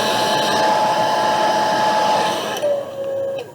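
A hair dryer blasts a steady, loud whine while speed-drying a watercolor barn landscape, then drops to a lower, softer pitch for its last second before cutting off.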